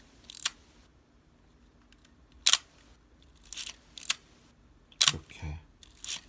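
A Voigtlander Bessa R film camera's metal focal-plane shutter fires five sharp clicks at irregular intervals, close up, with quiet handling noise between releases.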